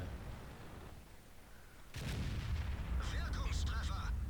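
A tank cannon firing from a Waffenträger auf E 100 in a video game: a sudden loud boom at about two seconds, followed by sustained rumbling battle noise and brief higher engine or effect tones.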